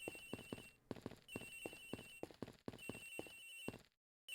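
A cell phone in a courtroom mystery video game rings with a repeating melodic tone over a rhythmic lullaby-like tune, steady and fairly loud, cutting off abruptly near the end.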